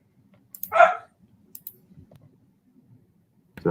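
A dog gives one sharp bark, close and fairly loud, followed by faint clicking and low rustling, then another bark starts at the very end.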